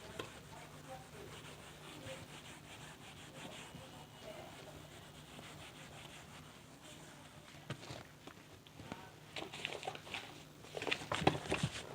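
Dry rubbing and wiping of an eraser across a classroom board, a steady scraping texture that grows louder and more uneven toward the end, with no talking.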